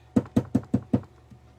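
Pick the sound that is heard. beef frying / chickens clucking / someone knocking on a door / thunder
someone knocking on a door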